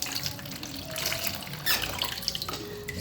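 Running tap water splashes over fresh ginger in a sink, a steady close stream broken by shifting splashes, squeaks and drips as the root is rubbed clean.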